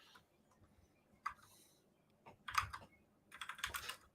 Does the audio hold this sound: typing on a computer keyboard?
yes